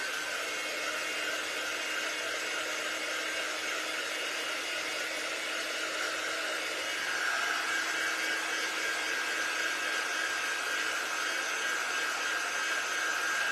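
A hair dryer blows on homemade stickers, a continuous steady whirring roar close by that shifts slightly in pitch and gets a little louder partway through.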